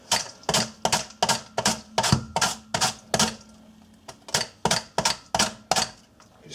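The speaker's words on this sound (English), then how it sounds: "You can cut the cabbage in very small pieces and it's easier to eat when the cabbage is ready" Cabbage is sliced into small pieces for sauerkraut with a cutting tool, a rapid run of a dozen or so crisp, even chops close by, with a brief pause partway through and no speech.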